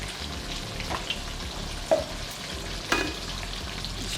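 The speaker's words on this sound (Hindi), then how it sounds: "तेल डालते हैं, मसाले के हिसाब से ही तेल डालेंगे।" Oil sizzles steadily in a hot kadhai while gravy for a Bihari-style fish curry is started, with a few soft clinks and stirring scrapes over the constant close frying hiss.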